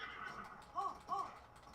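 A horse in the video game Breath of the Wild gives two short whinnying calls, moderately close, over low game ambience and faint background noise.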